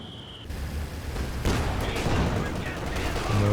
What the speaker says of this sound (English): Here come the heavy mortar shells.